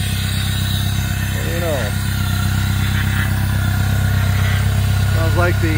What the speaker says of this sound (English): idling on its own right now